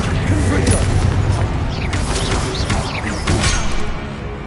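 Blasting-curse explosions in a Harry Potter video game, a dense run of booming, crashing bursts over a constant low rumble, loud and close throughout.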